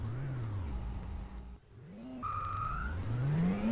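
A car engine in the Amiga game Test Drive drones steadily with shifting pitch, dropping briefly before revving up again, while a second synthetic car tone passes through.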